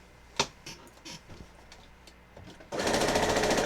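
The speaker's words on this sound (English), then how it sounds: "I'm just gonna start sewing my rows." Quilt rows are sewn on a sewing machine, which starts after a few light clicks and taps, then runs at a fast, steady rhythmic whir, close and loud.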